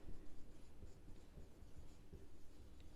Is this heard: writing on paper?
yes